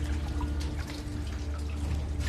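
Water flows through an underground river inside a cave, a continuous close wash of trickling and dripping over a low, hollow rumble, with no voices.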